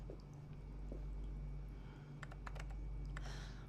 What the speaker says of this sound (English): The typewriter.